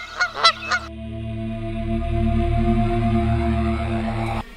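A goose honks three times in quick succession, loud and close, followed by a steady low droning hum.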